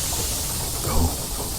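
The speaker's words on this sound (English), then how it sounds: "Steam engine is lit and fully functional." A lit steam engine gives off a steady, broadband hiss that runs through the whole clip at an even level, with a slight swell near the middle.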